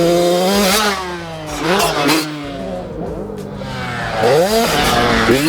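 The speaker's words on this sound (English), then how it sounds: "This is the 2025 GasGas MC85 two-stroke" A 2025 GasGas MC85 two-stroke dirt bike rips past at Glen Helen, its high buzzing engine revving and dropping repeatedly as it accelerates, shifts and swells again, loud and near, with no talk.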